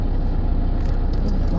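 Steady low road rumble and engine drone inside a moving car, loud and continuous, with a voice talking over it.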